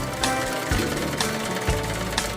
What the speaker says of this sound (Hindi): सिलाई मशीन से खटखट की आवाज आती जा रही है